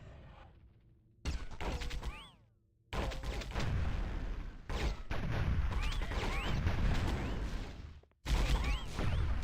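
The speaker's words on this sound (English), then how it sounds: "right click is double shots" Gunfire in the video game Warhammer 40,000: Fire Warrior, heavy loud shots and booming blasts in bursts with brief gaps, close and dense, with no talking.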